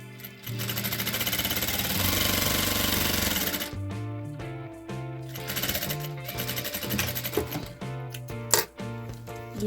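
A domestic sewing machine stitches fabric in fast, loud mechanical bursts with short stops between runs, close up and without talk.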